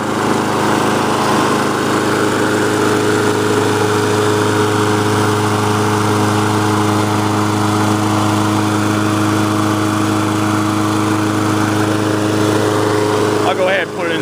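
A Lawnboy AWD lawn mower engine runs at a steady, loud drone from start to finish, close by and alone, without starting bursts or pauses.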